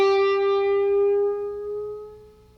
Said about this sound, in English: we're going to take our 12th fret on the G string and bend it slowly up.